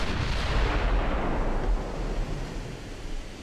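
Seven-inch naval guns fire in Ultimate Admiral: Dreadnoughts during a Denmark Strait battle, a heavy booming roar that rolls on and slowly fades into a rumbling tail, with no voices over it.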